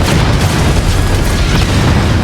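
A rocket launcher round explodes against a giant sentinel in Halo 2, a loud, dense, rumbling blast sustained for a couple of seconds with no voices.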